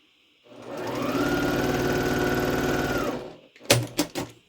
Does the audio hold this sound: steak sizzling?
no